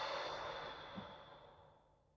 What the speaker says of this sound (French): Et vous soufflez.